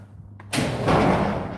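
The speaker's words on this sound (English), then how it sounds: "Open up my door." A house door being opened at a Gulf Coast home, with a faint click followed by a loud thump and a rushing swell of outdoor noise.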